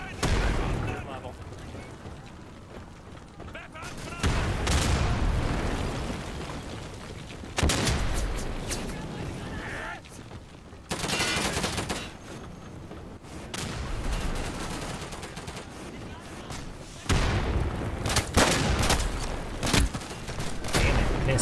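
Heavy gunfire in the World War II shooter Day of Infamy, with bursts of rifle and machine-gun fire plus booming blasts coming in loud waves, and voices talking beneath.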